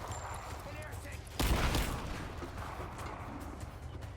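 A single gunshot from a pistol in Rise of the Tomb Raider, a brief sharp crack over quiet in-game ambience, with a voice talking around it.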